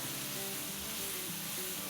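Ground coriander, cumin and garam masala frying in oil over a medium-low flame, giving a steady, dense sizzle that runs without a break and stays close and fairly loud.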